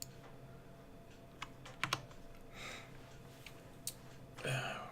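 Computer keyboard keys are tapped in short bursts while someone works in the GZDoom builder level editor, quiet clicks scattered across the span with a soft breath or rustle near the end.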